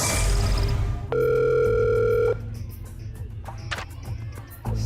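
A telephone rings loudly on the Kapamilya Deal or No Deal game show stage, the banker's call cutting in as a steady sustained tone for about a second before fading into studio crowd noise and clicks.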